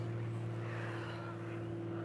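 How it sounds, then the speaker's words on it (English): A propeller airplane drones overhead as a steady, low, fairly faint hum that holds at an even level through the whole moment. "The plane, the plane."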